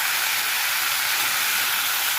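Marinated raw banana fries over high heat in hot oil with a pinch of black cumin, producing a loud, steady, unbroken hiss of sizzling close up with no pauses.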